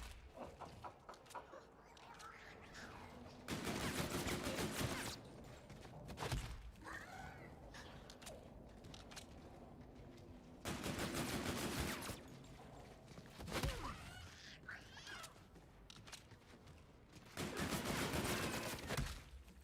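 Video game gunfire, three long dense bursts of rapid automatic shots separated by quieter stretches with scattered thuds and chirpy game effects.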